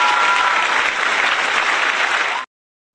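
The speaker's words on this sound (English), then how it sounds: "Have a round of applause for them." A burst of applause and cheering from an audience at a live sports-picks show, loud and dense for a couple of seconds before cutting off abruptly.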